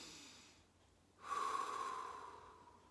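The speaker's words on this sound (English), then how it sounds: "And that's how you breathe correctly." During a breathing exercise demonstration, a quiet, slow breath is followed by a sharp nasal inhale that turns into a long, airy breath sound fading out, close and intimate.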